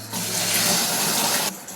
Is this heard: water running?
yes